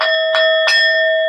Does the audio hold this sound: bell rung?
yes